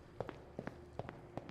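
Footsteps in a video game, walking through a dark, airport-like area: a steady pace of about four soft, close thuds with no talking.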